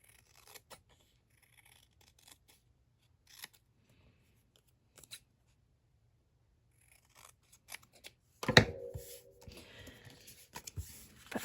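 Scissors snipping patterned paper for a handmade baby card, a few quiet scattered cuts at first, then a louder close burst of cutting and rustling near the end.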